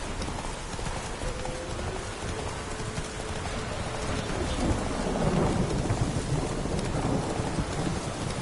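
Thunder follows a lightning strike in Witcher 3. A deep rumble builds and swells under steady rain, with horse hooves clopping nearby throughout.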